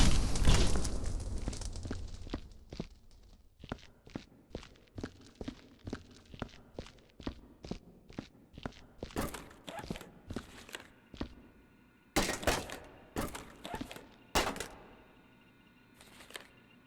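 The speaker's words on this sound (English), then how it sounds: "You have such loud footsteps." Footsteps in the video game Viscera Cleanup Detail, set in an old mine: a long run of loud, crisp thudding steps in an irregular walking rhythm, close up, with a heavier burst near the start and brief pauses between clusters.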